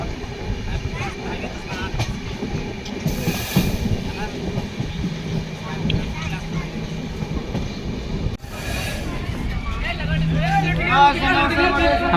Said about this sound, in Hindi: हमारी ट्रेन चांपा जंक्शन पहुंच चुका